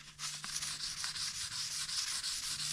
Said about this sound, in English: That will lighten up a little bit whenever I wet sand it.